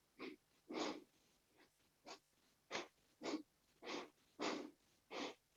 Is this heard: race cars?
no